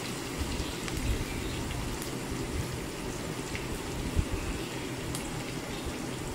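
Onions sizzle and fry in a hot pan until browned, a steady dense crackling hiss with occasional louder pops, fairly close and continuous without any talk.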